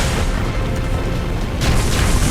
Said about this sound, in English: It's an explosion of soil.